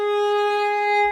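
A single G sharp bowed on a string instrument with the third finger on the D string rings as one sustained, steady note with rich overtones, close and clear.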